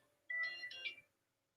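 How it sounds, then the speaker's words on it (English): A phone's ringtone for an incoming call plays as a short, bright melodic chime of a few notes lasting under a second, fairly faint against a quiet background with no talk. "Let's answer this phone call."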